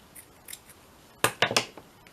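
Scissors cut paper for a handmade journal: a few faint snips, then three louder close crisp cuts in quick succession.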